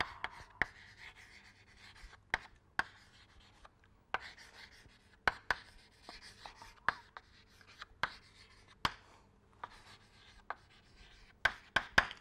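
A pen writing on a board during a fluid dynamics lecture, producing scratchy strokes punctuated by sharp, regular taps, close and fairly quiet, with no talking.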